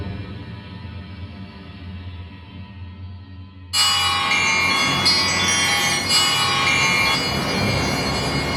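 Bell-like metallic chimes from the Dronar Metal & Glass virtual instrument by Gothic Instruments, sounding suddenly and brightly over a low dystopian drone and ringing in dense overlapping strikes that sustain to the end.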